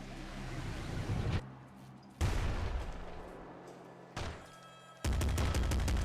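Rapid machine-gun bursts from a roguelike twin-stick shooter video game, loud and punchy, coming in several separate volleys broken by short pauses.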